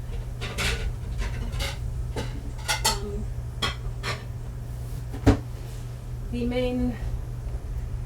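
Plates clattering in a home kitchen as a plate is taken out, a series of close ceramic clinks and knocks over a steady background hum, with one sharper clack near the end.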